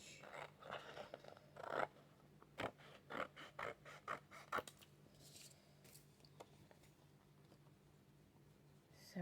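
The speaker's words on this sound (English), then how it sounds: "So let's cut around the edge." Scissors snipping around the edge of shiny paper for paper piecing, a run of close, crisp cuts in an uneven rhythm, then quieter handling.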